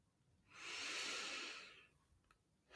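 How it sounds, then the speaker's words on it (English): One slow, deep inhalation through the nose swells and fades over about a second and a half, close and quiet in a calm room. "Take a nice big breath again."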